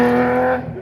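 A historic race car at the Bagnols-Sabran hill climb in April 2025 roars close by with a strong steady engine drone, then fades sharply as it moves away.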